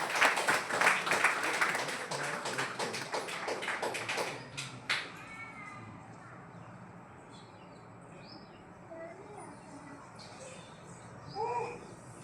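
An audience claps at a Catholic Three Kings feast gathering: dense, lively applause for about four seconds that dies away into a quiet room with faint bird chirps.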